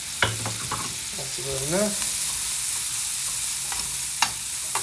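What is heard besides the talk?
garlic frying in pan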